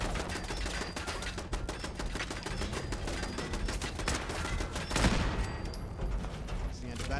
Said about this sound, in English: Oh, that's a turret.